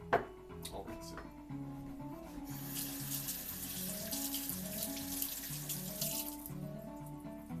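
Water from a kitchen tap runs steadily and splashes into a honey container being rinsed in a sink, close and continuous, with faint background music.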